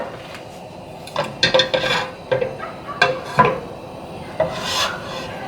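Food browns in a pan with olive oil and butter, heard as scraping and clinking of a utensil against the pan in irregular bursts, close and fairly loud, with no talk.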